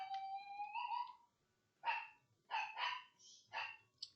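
A small, annoying, aggressive dog lets out a string of sharp, yappy barks: one drawn-out whining yelp, then three quick separate yips, fairly close.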